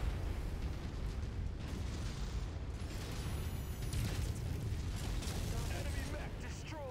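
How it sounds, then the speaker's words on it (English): An enemy mech blows up in the Mechwarrior 5: Mercenaries video game, a dense, continuous roar of explosion and mechanical rumble filling the whole stretch at steady loudness. "Enemy mech destroyed."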